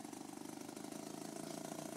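A BRASH steam-powered engine test vehicle pulls away from a stop and accelerates, giving a steady, dense mechanical churning with a rapid regular pulse that holds fairly loud and close throughout.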